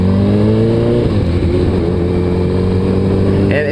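A Suzuki Hayabusa liter-class motorcycle accelerates on a road, its engine note holding loud and close with steady harmonics that dip and climb again as it pulls away.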